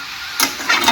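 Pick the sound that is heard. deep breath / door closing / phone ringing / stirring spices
stirring spices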